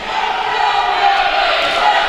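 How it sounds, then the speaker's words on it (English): A Rattler home crowd roars steadily in a gym during a college volleyball match against the Javelinas, a loud continuous wash of cheering with no distinct breaks. "this Rattler crowd trying to get behind their team"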